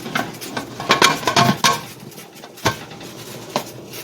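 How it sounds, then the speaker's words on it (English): A metal canner lid is set onto the pot, giving a flurry of clanks and scrapes early on, then a few sharper isolated knocks as it settles into place, close and fairly loud. "So I'm going to put the lid on the canner"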